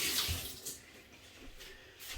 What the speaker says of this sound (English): I'm going to wash that up.